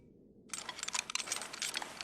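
Rapid cluster of small plastic clicks and rattles as the straps of a carried frame are fastened in the video game Fragile Dreams, close and crisp, beginning after a short silence and continuing densely.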